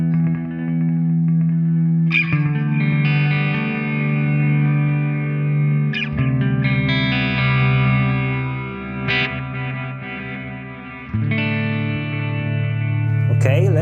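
A Walrus Audio Fable granular soundscape pedal set to normal time with low feedback and no modulation turns a guitar into layered, sustained tones that shimmer with echo, changing texture at each new strum.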